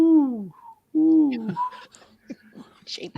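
A person's voice imitates an owl, giving two low descending hoots close to the microphone, followed by scattered chatter and small background noises.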